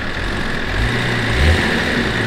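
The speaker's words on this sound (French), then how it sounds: "Oh le ralenti, c'est vrai, j'aime bien." A car engine idles in a steady, low rumble that swells slightly midway, close and continuous, with no talk over it.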